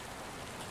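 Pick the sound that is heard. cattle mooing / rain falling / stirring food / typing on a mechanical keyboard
rain falling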